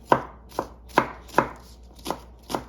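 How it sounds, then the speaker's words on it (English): A knife chops jalapeño and green peppers on a cutting board for oxtail stew, sounding as six or seven distinct, crisp thunks spaced about half a second apart, close and clear with no voices. "So I'm gonna chop these up."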